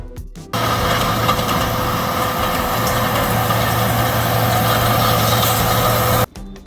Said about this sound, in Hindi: बच्चों ये है एस्फाल्ट पेवर मशीन।